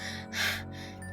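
A narrator voices a character breathing hard, giving one sharp, breathy gasp in the middle of a short, quiet stretch of panting.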